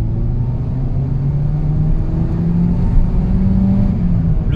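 A Peugeot 207 RC engine revs up in second gear toward 6000 rpm, a loud, close, steadily rising engine drone with deep rumble underneath, heard alone without talking.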